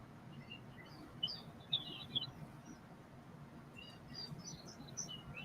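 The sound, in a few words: chatty catbirds calling outside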